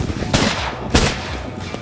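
Shotgun blasts during a duck hunt, two sharp loud reports about half a second apart over an outdoor background, the second shot stronger.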